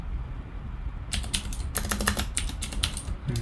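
Bursts of quick keyboard typing on a computer keyboard while writing Python code, close and crisp, arriving in uneven clusters of clicks after a quiet opening second, with no voice.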